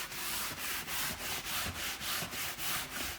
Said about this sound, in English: So let's just give this a good sand over the surface.